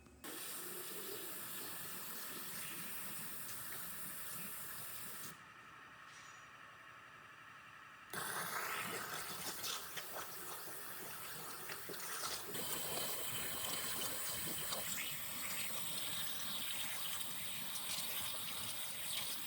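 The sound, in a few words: water jet blowing off the center piece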